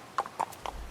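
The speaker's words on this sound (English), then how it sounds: "the homie added the horses up in there" Horse hooves clip-clop in a steady four-beat pattern through a Western-themed music track, each hoof strike crisp and close over a soft low backing.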